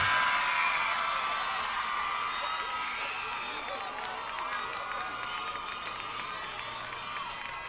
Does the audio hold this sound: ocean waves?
no